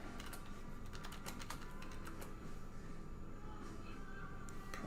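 Quick bursts of keystrokes on a computer keyboard, clicky and fairly close, tapping in irregular runs over a low steady background hum.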